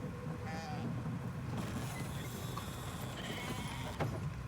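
Sheep bleating in a video game, a couple of short thin bleats rising over a steady low rumble of background noise, fairly faint and close together.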